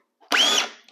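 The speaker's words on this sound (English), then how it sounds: "So now my drill should be going in. See, I can drive it in my table here." A DeWalt drill with a collated screw attachment drives a screw into a table, giving one short, loud, high-pitched whir of under half a second that ends in a quick mechanical click.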